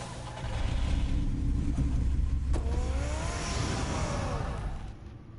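Batman's car pulling away in Batman: The Telltale Series, a low engine rumble building into a revving roar with a rising whine midway, then fading out near the end, no speech.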